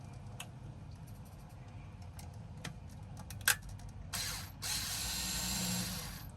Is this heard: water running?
no